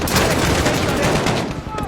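Odin 12.7mm .50 caliber assault rifle in the Modern Warfare video game firing a rapid, dense burst of loud shots that run together, close and continuous before easing off at the end.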